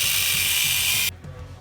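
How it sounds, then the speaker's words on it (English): Steel being cut off the frame end caps during a Shrockworks front bumper install on a Gen 3 4Runner: a loud, steady, harsh cutting whine that runs for about a second, then cuts off abruptly, leaving quiet shop ambience. "now that we've cut the excess steel off of this"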